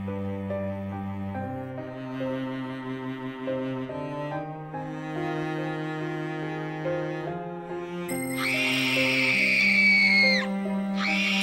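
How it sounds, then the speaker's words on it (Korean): Souls in hell screaming for help: a long, high, anguished shriek rises out of a dark, sustained musical drone, loud and close, with no spoken words. "지옥 영인은 살려달라고 비명을 지르고"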